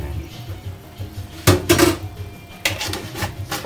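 Clinks and taps of a metal spoon on a pan as a teaspoon of sugar goes into tofu with mushrooms and oyster sauce, a few short, close kitchen knocks over a quiet background.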